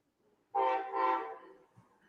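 A train horn sounds two loud, merged, tonal blasts in close succession, clear and alone against near silence, then fades out.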